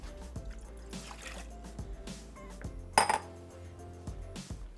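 A small amount of water poured into a metal pan on a home kitchen stove, trickling with clinks and knocks of cookware in a steady sequence, one sharper clank partway through, no speech.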